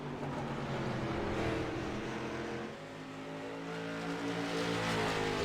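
Street stock race cars roar around the track in iRacing, engines droning steadily with layered harmonics, a brief dip near mid-clip before the pack's engine note swells again, no voices.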